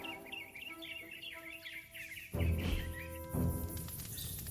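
Birds chirping in the Marvel's Midnight Suns video game, a run of quick, high twittering notes over a soft ambient bed, followed by louder low thumps and rustling sounds near the end.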